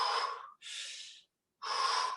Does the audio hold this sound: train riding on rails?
no